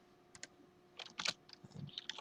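Typing on a computer keyboard in Notepad: irregular bursts of crisp key clicks, a few isolated taps then denser clusters of keystrokes, close and moderately loud with no speech.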